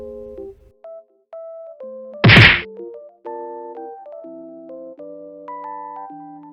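A sharp, heavy whack lands as a double attack hits a survivor in Identity V, one loud impact sitting amid soft, steady synth game tones.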